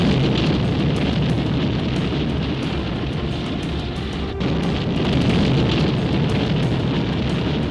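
A continuous, dense rumbling roar of a massive atomic blast over Hiroshima, broadband and sustained for several seconds with a brief crackling burst midway, loud and alone.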